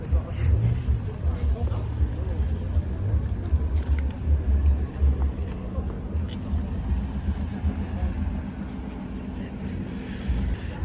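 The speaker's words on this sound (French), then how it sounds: "regarde la Golf qui arrive là" A lowered Volkswagen Golf carrying wheels on its roof rolls in at an improvised night car meet in Bordeaux, a steady low engine and road rumble that fills the scene while people talk.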